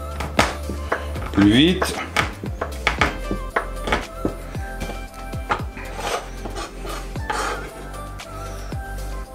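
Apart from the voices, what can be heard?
crushing chocolate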